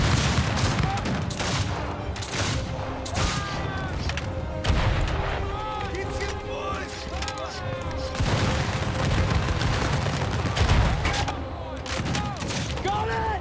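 Rifles fire volley after volley in a Civil War battle scene where cadets fill a gap in the line: dense, overlapping cracks and booms roll on without pause, loud and chaotic, with shouted voices mixed into the din.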